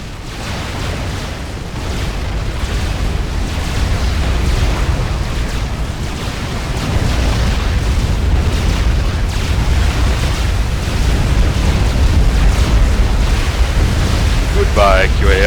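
ACU commander unit destroyed by a Scarab Swarm in the Supreme Commander game's Cybran mission, a sustained, loud rumbling barrage of explosions and booms with continuous low-end roar throughout.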